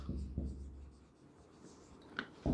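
Marker or chalk writing on a board during a physics lecture on electromagnetic induction, a few short scratchy strokes at moderate level in a quiet room, with a louder stroke near the end.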